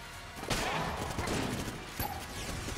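Particulator weapon fire in the video game Enter The Gungeon, with a burst of crackling shots at the start and another sharp hit near the end over continuous busy game noise.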